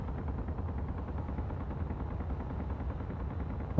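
Gunfire in the video game Space Engineers hammers at solar panels as a rapid, continuous stream of close, low-pitched shots with no pauses.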